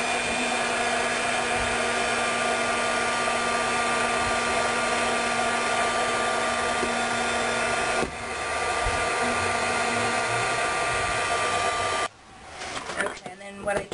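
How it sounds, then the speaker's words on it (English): A heat embossing tool blows a continuous whirring hiss as it shrinks Shrinky Dink plastic earrings, running steadily before cutting off near the end, followed by faint handling noises. "heat embossing tool to shrink it"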